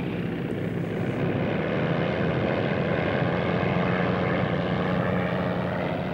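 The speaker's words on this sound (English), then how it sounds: "Its 800 horsepower engine is fired up." An 800-horsepower racing airplane engine roars continuously as the plane taxis, a loud, steady, dense drone that fills the whole stretch without any voices.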